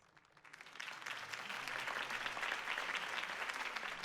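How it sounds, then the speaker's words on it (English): Crowd applause follows a campaign speech in the Batman Telltale video game, a dense wash of clapping that swells in and holds steady, moderately distant and fairly quiet. "could have heard that applause"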